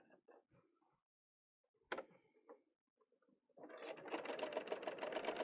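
Bernina L890 serger rolling an edge at around 900 stitches a minute: after a few quiet handling clicks and taps, the machine starts up close by into a dense, steady buzzing chatter that runs to the end.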